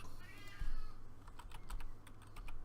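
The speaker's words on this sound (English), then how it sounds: "my cat is going nuts" A cat meows briefly and faintly early on, followed by rapid clattering computer keyboard typing close by, all at low volume.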